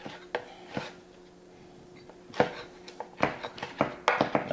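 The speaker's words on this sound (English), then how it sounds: "so we're just gonna chop this up" A knife chops fresh sage on a cutting board, giving sparse sharp taps at first, then a quicker uneven run of crisp knocks, close and fairly quiet.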